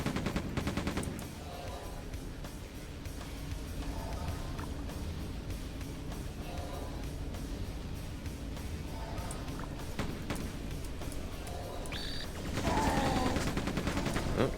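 Rapid gunfire in Quake 2 as shots are aimed at a fan, with dense repeated bursts of weapon fire, clanking mechanisms and a heavier volley near the end, steady and loud throughout.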